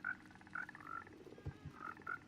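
Minecraft frogs croak in quick repeated calls, several short chirpy croaks with a deeper thump between them, close and clear in a survival world with no talk.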